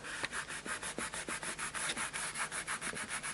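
Dried Molotow masking pen fluid is rubbed off paper in a fast, steady series of short scratchy strokes, close but quiet, with no voices.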